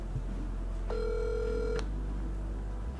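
A single ring tone on an unanswered outgoing telephone call, heard briefly over steady low background hum with no talking.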